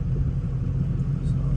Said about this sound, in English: we're going to get it up to 55 mile an hour